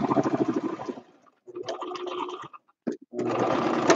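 A sewing machine stitches a quilt in several bursts, a close, fast mechanical whir that stops and starts with short pauses between runs.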